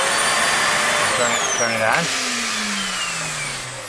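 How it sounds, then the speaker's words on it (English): Vacuum cleaner running inside a Heartland Cyclone 4007 RV, a loud steady whine with a pitch that sweeps and then winds down, while a person says a couple of words over it. "You can use that to vacuum indoors and out."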